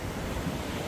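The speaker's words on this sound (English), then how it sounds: "Judging by the uniform spinny choppiness of the water, I would say there's an Archimedes wheel in there, like a corkscrew water thing." Water churned by an Archimedes screw gives a constant rushing, choppy wash, broadband and fairly loud, heard alone without any voices.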